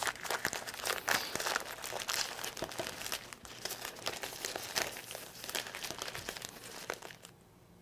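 Bouquet wrapping paper is folded and crinkled by hand up close, producing continuous dense crackling and rustling with sharper crunches, fading to quiet at the end; no talking.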